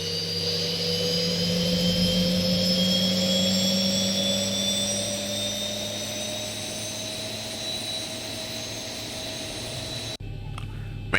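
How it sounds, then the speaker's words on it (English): Boeing 737 jet engine spooling up in the X-Plane 11 flight simulator, a steady rising whine with tonal harmonics climbing in pitch over a constant low roar, loud and continuous, cutting off abruptly near the end. "can bring the fuel in and the engine's now gonna start fully"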